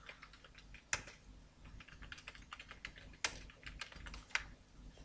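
Computer keyboard keys clatter in quick irregular bursts while text is typed in Photoshop, with a few sharper, louder key strikes standing out, close and alone with no talk.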